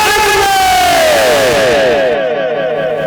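A large crowd at a Bangla Islamic waz gathering chants the takbir in unison, a loud, sustained mass shout with a falling, harmonic pitch that fades over about three seconds.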